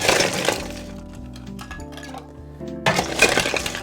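Ice cubes drop into a cocktail mixing glass, with a clattering burst of clinks and cracks at the start, softer knocks in the middle and another loud rattle near the end, close up and without speech.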